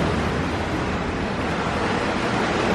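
Ocean waves on a beach on a sunny morning, a steady loud broadband wash of surf with constant wind-like roar throughout, no talk.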